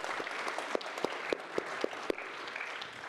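A conference audience at a cannabis industry event in Berlin gives the panel a round of applause, a steady patter of many hands clapping at moderate distance with a few sharper nearby claps standing out.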